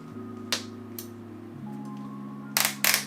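The ratchet on a belt gun's release mechanism gives a few sharp, close clicks spaced irregularly over a faint steady hum, with no voices.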